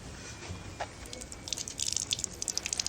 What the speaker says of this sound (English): I'll give them a little rinse before I inspect further.